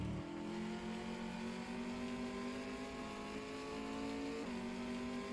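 TA2 V8 race cars in an online sim race at Sydney Motorsport Park, a loud droning engine note falling steadily as the car brakes, then a brief blip of revs near the end.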